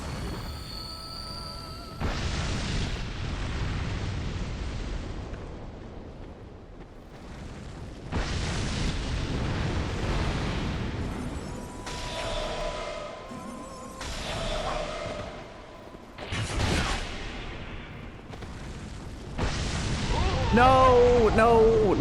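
Booming in-game blasts in Dark Souls 2: Scholar of the First Sin, several loud bursts in succession with rumbling tails, heard under ongoing speech.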